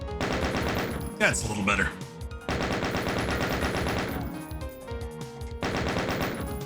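Rapid chain gun fire from Doom played with the Smooth Doom mod, in three sustained loud bursts separated by short pauses, with a brief spoken remark during one gap.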